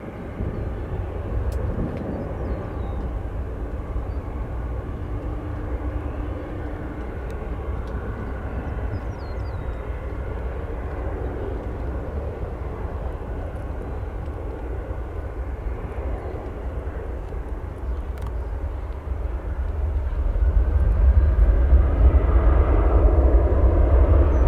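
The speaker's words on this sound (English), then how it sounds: "757 from Las Vegas." A Boeing 757 airliner from Las Vegas approaching O'Hare Airport gives a steady, continuous jet-engine roar that holds throughout and swells louder near the end, with no voices.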